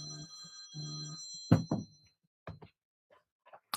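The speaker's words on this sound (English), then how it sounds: "I'm getting a phone call from Russia" A phone rings with an incoming call, two bursts of electronic ring tone followed by a few knocks and thumps as it is handled nearby.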